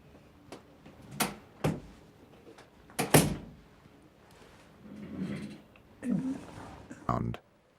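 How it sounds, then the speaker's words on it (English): A door thumps shut amid a run of knocks, bumps and rustling movement in a room, with several sharp impacts and softer shuffling noises; someone speaks in between. "Let me close the door."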